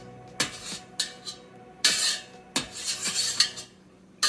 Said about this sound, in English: make nice cuts, just slices all the way through. You go vertical, and then you go horizontal.